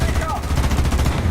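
An anti-aircraft vehicle in the War Thunder video game fires its cannon in a rapid, steady stream of close, punchy shots that lasts the whole moment.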